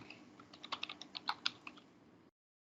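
Typing on a poor-quality computer keyboard: a quick run of soft, close keystroke clicks, irregular and faint, stopping abruptly into silence.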